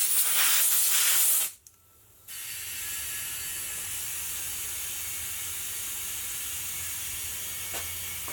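Steady loud hiss of compressed air filling a skinny tire mounted at home to seat the bead, a brief burst then a short pause before the continuous hiss resumes and runs evenly to the end.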